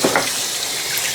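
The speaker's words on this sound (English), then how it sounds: "Wash my hands." Hands washed under a running kitchen tap while cooking dinner, a steady close rush of water splashing in the sink, continuous and fairly loud with no talking.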